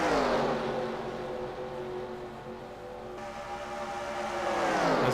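Racing cars in a stock car racing video game, with Qualls and Fitzwater running side by side, their engines whining at high pitch, dipping and then rising again as the pack passes, with no talk.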